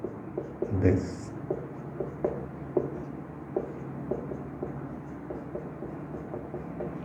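Chalk or marker tapping and scratching on a board while a math lecturer explains continuous functions, a steady series of faint, short clicks under calm spoken explanation.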